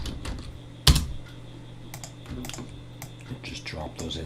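A computer keyboard tapped in a short burst of typing to enter a folder name, with light, close key clicks scattered after one sharper loud tap, over a quiet room hum.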